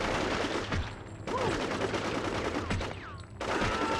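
Gunfire from a new weapon in the PS2 game Cold Winter: bursts of rapid shots fill most of the clip, dense and loud, broken by one short gap and a brief drop near the end.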